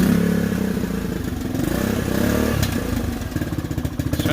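A Suzuki DR200 motorcycle engine idles steadily after a restart, with a close, loud, continuous rhythmic putter and some mechanical clatter, no talking.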